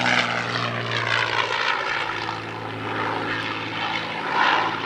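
A propeller warbird painted as Swamp Fox, an 8th Air Force aircraft from 1944–45, flies at the Santa Maria airshow, its engine drone loud and steady with a low throbbing hum and slight swelling.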